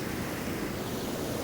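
Rough sea waves at Cabo da Roca, Portugal, heard as a continuous roar of surf blended with gusty wind buffeting the microphone, loud and close, with no talking.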